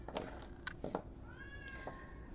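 An elderly cat meows several times in short, vocal bursts close by, with a quiet indoor background and no talking.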